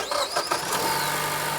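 A car engine cranks briefly and catches, settling straight into a loud, steady idle close by, during a diagnosis of a car that stalls intermittently when coming to a stop.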